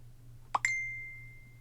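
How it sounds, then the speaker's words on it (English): A short two-note phone notification chime sounds once, the second tone ringing on and fading slowly over a faint steady hum. "I'm waiting for a ding on my phone to tell me it's confirmed"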